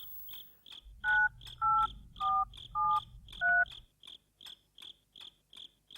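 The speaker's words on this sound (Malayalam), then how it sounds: "ഏതായാലും അമ്മയ്ക്കൊന്ന് വിളിച്ചു നോക്കാം." A telephone dialing a call: a run of five touch-tone key beeps over a low hum, set against a steady pulsing ring or chirp that repeats at an even pace throughout, close and fairly quiet, with no talking.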